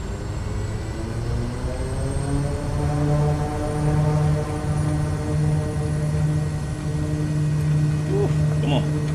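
An SWS Kodiak aircraft engine powering up in a flight simulator, a steady droning propeller hum whose pitch slowly climbs and holds, loud and continuous throughout.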